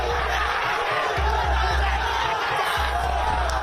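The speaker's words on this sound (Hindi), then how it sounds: "उन्हें देखकर बीजेपी कार्यकर्ताओं ने भी दुगने जोश के साथ नारे लगाने शुरू कर दिए" Party supporters at a political rally chant slogans as a loud, dense crowd, with rhythmic shouting and overlapping voices forming a constant roar.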